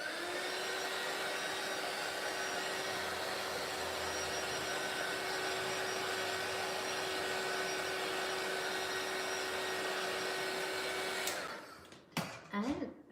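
A dryer blows on paint drying on a mixed-media artist trading card, a steady loud whine and rush for about eleven seconds before cutting off, followed by a few handling clatters.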